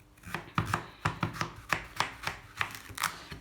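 A knife chops courgettes into cubes on a cutting board, about a dozen crisp, evenly spaced taps close by with no talk.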